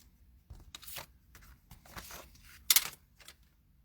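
A paper trimmer slicing card stock for a handmade card, with a few short crisp cutting and sliding strokes and one sharper snap near the end, close and fairly quiet.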